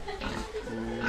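Pig grunts on a pig farm, a short burst of low, rough oinking over steady farm background noise, with faint voices nearby.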